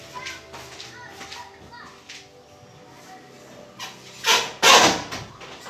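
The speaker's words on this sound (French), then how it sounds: "je vais fermer les enfants qui jouent là dehors, ça fait du bruit" Children playing outdoors, faint distant voices and shrieks under nearby talk, ending with two louder knocks as of a door or window closing.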